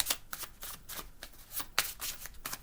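A deck of cards is shuffled by hand in quick repeated riffles and snaps, close and fairly soft, with no talking.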